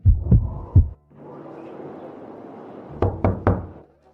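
Firm knocks on a wooden house door, two thuds, then a hushed pause, then three more knocks, loud and close.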